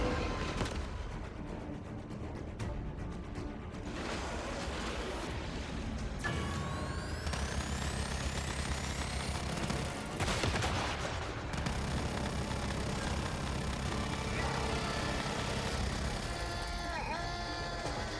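A Gatling gun fires in the video game Once Human, a dense, sustained rattle of rapid shots running continuously across a busy game soundscape, loud and close with brief shifts in intensity.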